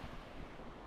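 Mediterranean Sea waves wash onto the beach at El Perelló in Valencia, heard as a steady, broad rushing surf with wind noise across the microphone, continuous and fairly faint, with no voices.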